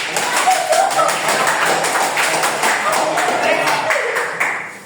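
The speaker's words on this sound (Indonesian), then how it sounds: "give applause for Monica" Classroom applause for a student during a grade 10 microteaching lesson, with rapid, dense hand claps sounding close and fairly loud for about five seconds.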